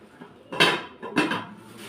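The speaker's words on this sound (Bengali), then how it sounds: "ননস্টপের পাতিলা নিয়ে আসলাম" A new nonstick cooking pot is handled at close range, giving two distinct metallic clanks about half a second apart, each ringing briefly before fading.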